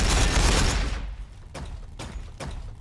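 Gunfire in the Warhammer 40,000 video game: a heavy rolling barrage fades out, then three sharp, separate shots crack at a steady pace over a low battle rumble.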